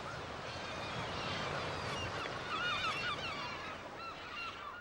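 A noisy flock of gulls squabbles over slices of bread a retired fisherman hands out, with dense overlapping calls and squawks rising in excitement over a steady outdoor wash and no talking.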